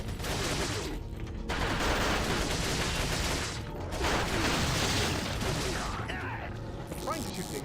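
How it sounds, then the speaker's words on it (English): Gunshots aimed at an explosive barrel in Resident Evil 4 arrive as dense clusters of sharp cracks mixed with metallic clicking and ratcheting, separated by short gaps. "I'm trying to shoot the explosive barrel"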